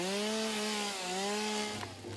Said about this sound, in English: I'm going to have a chainsaw that hopefully has a little bit of power in it